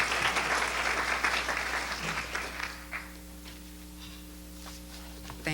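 An audience at the Portland City Club bursts into loud applause to welcome speakers, the clapping thinning and fading away after about three seconds into a quiet room.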